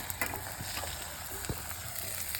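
Potatoes frying in hot oil give off a steady, dense sizzle with a few faint stirring clatters.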